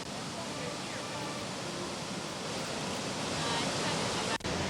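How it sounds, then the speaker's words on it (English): A powerful waterfall in a canyon near Banff, Canada roars as a dense, steady rush of water that fills the whole scene, with no breaks. "And then the payoff is getting to this magnificent waterfall."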